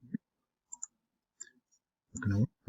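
Single sharp mouse clicks, three or four spaced apart, pressing the plus button on a Padlet board, close and quiet, followed by a brief burst of speech.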